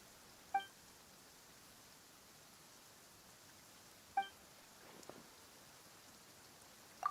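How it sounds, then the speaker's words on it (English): Rain falls in Genshin Impact as a faint, even hiss of soft patter, with a few brief bright chimes and clicks rising above it now and then; nobody talks. "Why is it raining all of a sudden?"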